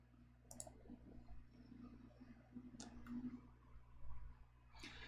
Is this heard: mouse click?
yes